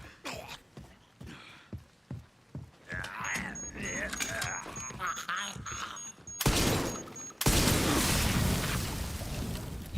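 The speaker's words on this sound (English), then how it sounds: "Hate to waste the shotgun shell on that, but it is what it is." A shotgun blast in Resident Evil 9 Requiem lands loud and close near the end, a heavy burst that swells into roaring game noise, after scattered thumps and clatter with a person talking underneath.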